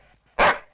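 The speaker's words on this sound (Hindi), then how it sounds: "कुत्ते हट हट" One short, loud dog bark rings out close by after a moment of quiet, with a soft rumble underneath beforehand.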